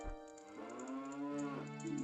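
A cow in the Ocarina of Time video game gives a single long, tonal moo that rises and bends over about a second and a half, clean and moderately quiet with no talk over it.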